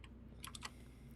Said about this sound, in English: My freaking keyboard's typing doubles here